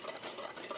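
A spoon stirs latte concentrate mixture in a container, quick scraping swishes repeating in a brisk rhythm over less than a second, close and fairly quiet, with no talking.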